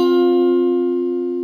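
One sustained electric guitar note from the riff, fretted with the pinky at the 10th fret of the 3rd string, rings clearly and slowly fades, with no voices.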